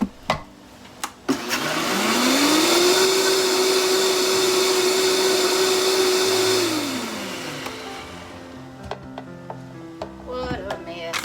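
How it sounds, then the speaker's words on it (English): A kitchen mixer blending peaches with lemon juice for easy peach jam whirs up to a loud, steady motor drone for several seconds, then winds down, with a few clicks and knocks of handling before and after. "I'm going to put it in my mixer so I can get all these little jibs of peaches out that I can"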